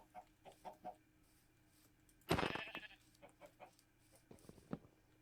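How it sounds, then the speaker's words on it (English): Chickens cluck in Minecraft in a few short, soft bursts, then a louder flurry of squawking and clucking mid-way through, followed by quieter scattered clucks against a faint game background. "I do like how there's the different versions of chickens now."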